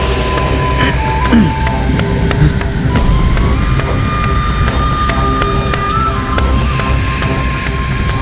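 Steady rain falls throughout, a dense continuous patter with low rumbling underneath and a faint tonal hum running through it, no voices.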